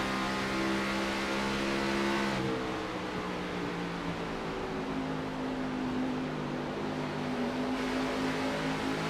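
Onboard the number 2 car in the Integrity IGNITE Series Rocky Top 176 race, a continuous close engine drone with shifting pitch as the car pulls through the corners, steady and fairly loud throughout with no voices.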